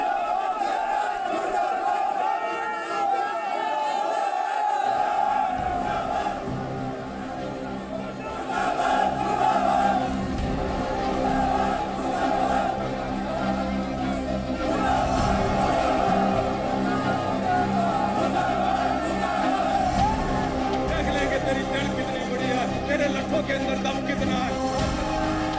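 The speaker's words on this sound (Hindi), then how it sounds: "सोचिए, किसान आंदोलन के नाम पर जुटी ये भीड़ क्या देश का भला चाहती है?" A large crowd at a farmers' protest in India roars and chants continuously, with loud massed voices and a reporter speaking over the din throughout.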